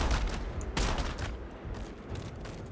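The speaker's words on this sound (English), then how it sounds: "This is a shotgun." Shotgun blasts in the Starfield video game: two loud, close booms about a second apart, each with a long ringing tail, over a dense, busy backdrop of ongoing gunfire.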